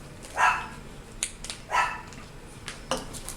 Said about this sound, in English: There, my dog's got to chime in.